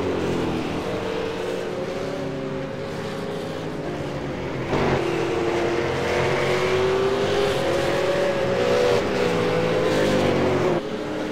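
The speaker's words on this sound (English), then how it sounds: "So a couple of cars now just on out laps and trying to find their feet as this session almost comes to a close" V8 Supercars race cars on out laps at Brands Hatch, engines droning steadily at moderate distance with rising and falling pitch as they pass, continuous and fairly loud, with no voices.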